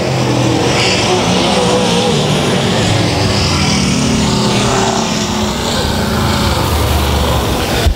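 Late model race cars roar around the dirt oval at U S 36 Raceway, a loud, dense, continuous engine blare from several cars with crowd-level ambience throughout.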